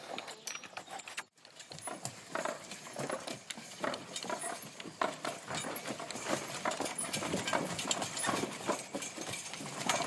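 A Percheron mare's hooves clip-clop steadily at a working pace, a dense run of close, crisp hoof strikes with faint jangling of harness, setting out for a day's work at a medieval rebuilding site.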